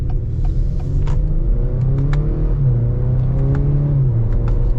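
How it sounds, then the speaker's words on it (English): A 2021 Acura RDX A-Spec SUV with a 10-speed automatic accelerates hard, its engine note rising in steady sweeps through smooth gear changes, loud and close with a deep rumble and no talk. "let's get our acceleration now with the RDX"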